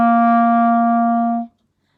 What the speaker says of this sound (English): we're going to learn about the low C note, which sounds like this.